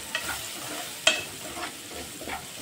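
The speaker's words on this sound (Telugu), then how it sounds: "మనకి ఆయిల్ ఉంటేనే ఆ ఫ్రై ఆనియన్స్ అనేవి కొంచెం వేగుతాయండి." Onions fry in oil in a pan while being stirred, giving a soft continuous sizzle with a sharp spoon scrape near the middle and lighter stirring clicks around it, close and moderately loud.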